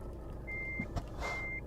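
Truck reversing beeps in the Euro Truck Simulator driving game, two clear, sustained electronic tones with a brief thud between them, heard over low engine rumble.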